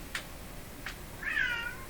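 A house cat gives a short indoor meow after two faint taps, quiet and close, with no one talking.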